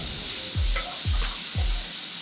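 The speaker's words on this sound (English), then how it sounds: "ahead and saute that over medium-high heat" Peppers and shallot sautéing over medium-high heat in a pan, a steady close sizzle broken by three evenly spaced low thumps, like a utensil stirring or tapping the pan, with no talking.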